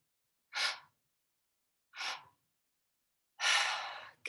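Deep breaths during a guided ceremonial breathwork session: three distinct breathy rushes of air, two short ones spaced apart and a longer, stronger exhale at the end, close and clear with no talk.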